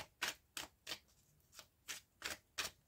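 Tarot cards are cut and shuffled close by in quick, crisp riffles, about eight short bursts spaced at a steady rhythm, fairly quiet against a still background.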